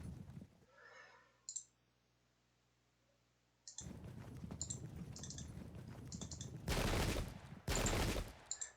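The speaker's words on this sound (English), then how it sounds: "We're a bit scattered because of the artillery fire." Artillery and musket fire in the Pike and Shot strategy game comes as a quick run of clicky reports, with two heavy, loud volleys near the end after a quiet stretch.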